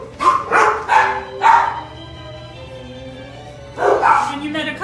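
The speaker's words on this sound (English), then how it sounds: "So this is the current kennel. We can house up to 16 dogs in here." Several dogs bark in a shelter kennel that holds up to 16 dogs, sounding loud and near in bursts of echoing barks and yips, with a quieter pause in between.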